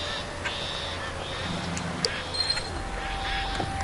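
Ducks quack from a hunting blind in the Duck Dynasty video game, several short calls scattered over a low ambient hum with faint background game sounds and a brief voice.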